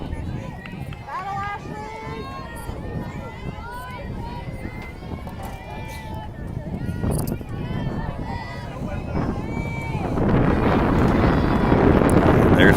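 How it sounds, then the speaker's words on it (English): Wind buffets the microphone at an outdoor high school softball game, a steady low rumble that swells sharply near the end and swamps everything, while an announcer calls the play over it. "There's our wind."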